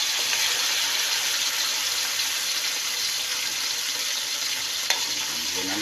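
Sardines tip into a pan of cooking upo (bottle gourd) with alagaw leaves, giving a steady, loud sizzle and bubbling frying noise throughout, with a brief clink of a utensil near the end.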